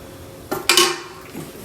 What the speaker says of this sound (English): Now we're just going to close the lid and cook these for a little bit.